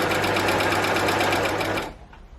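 A Baby Lock Acclaim overlock machine runs steadily while sewing a narrow three-thread stitch on fabric, a loud continuous mechanical whir with a fast pulsing rhythm that stops abruptly near the end.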